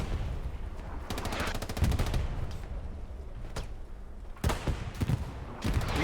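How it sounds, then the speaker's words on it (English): Tank combat in the online war game Hell Let Loose, with rapid machine-gun bursts and several heavy, booming cannon shots spread over six seconds, all set in a constant rumbling battlefield background. "Lovely tank shot there."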